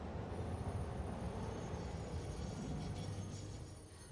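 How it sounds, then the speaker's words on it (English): A coal train in Satisfactory rumbles steadily along the rails, a dense low roar that holds for a few seconds and then fades slightly as it passes, with no voices. "my train running down there automatically, running that coal"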